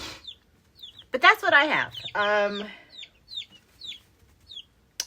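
Baby chicks of mixed breeds, including buff-colored birds, give short chirping peeps and soft clucks in a steady scatter close by, with a person talking in the middle.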